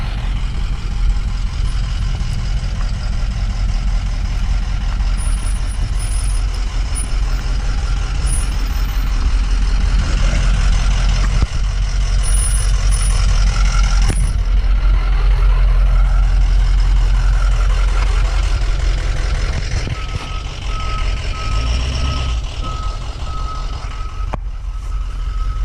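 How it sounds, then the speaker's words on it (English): A large bus pulls up close and loud, engine rumbling steadily, with hissing air brakes and a repeating electronic reversing beep through the later part. "Here's the bus I ordered."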